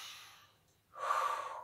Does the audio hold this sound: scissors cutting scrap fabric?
no